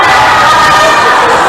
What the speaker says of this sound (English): Crowd's happy